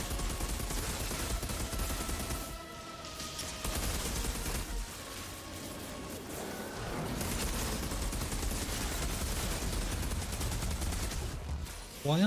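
Dense video game gunfire rattles continuously in rapid bursts under loud, busy game sound, staying near and heavy with a sharp burst at the very end.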